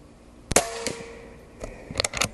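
An Umarex Origin .25 caliber airgun firing at a target: a sharp loud crack, then a few fainter follow-up snaps and a cluster of quick bright impacts near the end.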